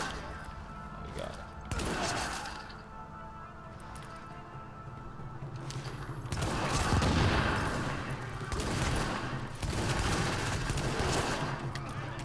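Rapid bursts of gunfire in The Division, with an M44 bolt-action rifle among the weapons firing, forming a dense, loud, continuous barrage with crashes and impacts.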